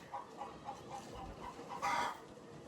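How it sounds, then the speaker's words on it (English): Chickens in a farm coop in Ghana cluck in short, repeated bursts, with a brief rustling flutter near the end as a bird gets loose inside. "Oh my goodness, a bird got in again."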